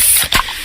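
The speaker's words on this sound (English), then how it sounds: "that's the sound of a freshly opened fizz-filled Pepsi" A freshly opened can of Pepsi gives a short, loud fizzing hiss up close, with no voices.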